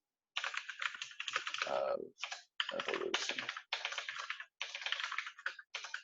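Rapid typing on a computer keyboard in bursts of clattering keystrokes with short pauses, fairly close and loud, while someone talks over it.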